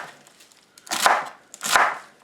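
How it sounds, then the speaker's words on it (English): Celery being chopped with a knife on a kitchen island, two distinct crisp crunching cuts about three-quarters of a second apart, close and clear with no talking. "Notice as I chop"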